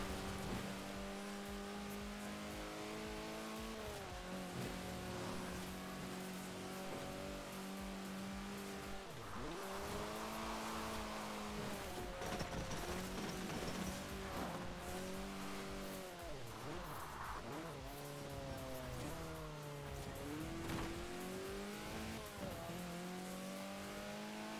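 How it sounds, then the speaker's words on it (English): A car engine whines and revs through gear changes while racing in Forza Horizon 4, with repeated rising pitch sweeps, dips on shifts and occasional tire squeal, steady and loud throughout. "driving this car is quite hard"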